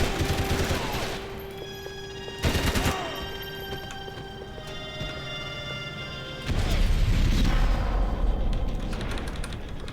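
Gunfire in the video game Max Payne 3: sustained bursts and fusillades of shots with loud crashes, stacked under a tonal game score, and the heaviest volley erupts near the end.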